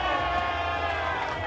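A UFC arena crowd cheers and roars in a dense, sustained wash of noise that fills the whole moment, loud and reverberant, with indistinct voices mixed in.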